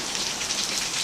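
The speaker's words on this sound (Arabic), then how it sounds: "هذا المطر" Rain falling in a leaking bedroom: a steady, dense hiss of heavy rain pattering on surfaces, continuous and close, no voices.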